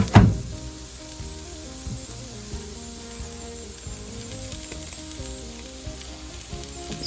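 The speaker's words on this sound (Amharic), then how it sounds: "አሁን እንደማደርገው ፎሶሊያን ቅድም የጠበስኩትን ፎሶሊያ ተጨምርበታለሁ ማለት ነው።" Green beans tipped into a pan of caramelized onions for Ethiopian fosoliye tibs, a loud burst of sizzle at first settling into steady close frying with faint clinks, alone with no talk.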